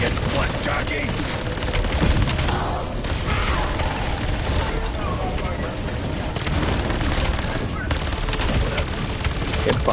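Dense automatic gunfire from hip firing in Call of Duty Black Ops 7 Zombies, loud continuous bursts with brief gaps, overlapping with game voices and speech.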